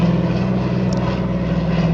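A loud airplane rumbles overhead, a continuous close engine drone with a heavy low hum and no voices over it.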